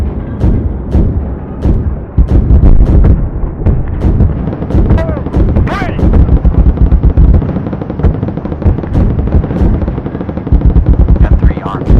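Rapid cannon and machine-gun fire from a gunship in the video game Project Gunship, a dense, loud stream of repeated bursts and booms running nearly nonstop, with voices speaking over it.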